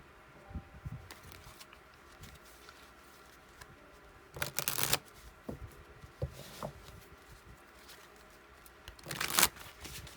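Rose Oracle tarot cards being shuffled by hand, with soft riffling and papery crinkles through a quiet room and two louder bursts of rapid card flutter.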